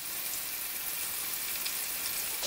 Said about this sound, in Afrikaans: En dan bak ons dit. So 2 minute aan die kant.